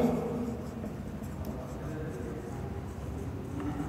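Steady scratching of a pen or marker writing on a board during a chemistry lesson, continuous and moderately close for several seconds with faint room noise, no speech.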